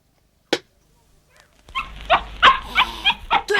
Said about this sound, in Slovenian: To je bil sosedov kužek, tisti polizani cucek, ne pa volk.